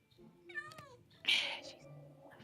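A cat meows in the Minecraft video game, a short faint meow followed by a louder, higher cry, with soft voices nearby.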